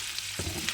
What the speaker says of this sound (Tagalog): babrown natin sa ating organic na butter